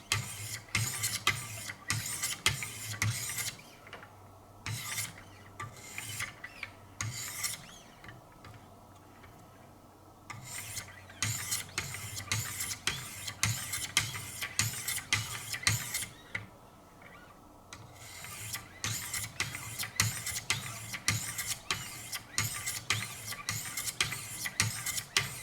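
Schrade Old Timer knife being resharpened on a Wicked Edge guided sharpening system, close rhythmic rasping strokes of stone on steel in steady bursts with brief pauses, no talking.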